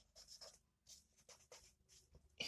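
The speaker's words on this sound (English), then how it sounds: "I want to write the formula for the molarity" Chalk or pen writing out a chemistry formula, a series of quick scratchy strokes in irregular bursts, close and fairly faint, with a sharper tap at the end.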